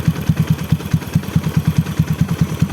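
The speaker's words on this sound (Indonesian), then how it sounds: "Nah ini udah langsam, gue gas dikit ya" Honda Supra X motorcycle with a 140cc bored-up engine idling close by, a fast, even, thumping pulse with light mechanical clatter.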